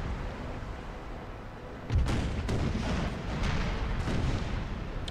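A ship explodes during a naval battle in the strategy game Imperial Splendour, a loud low boom at about two seconds followed by a sustained rumbling roar with scattered cracks of gunfire.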